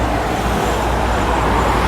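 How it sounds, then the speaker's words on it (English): Steady road traffic flowing on a usually congested street in Cebu City, a continuous broad wash of car, bus and truck engine noise and tyre rumble, fairly loud and close, with no clear voices. "This road here is usually bumper to bumper traffic, but as you can see, traffic is moving pretty well."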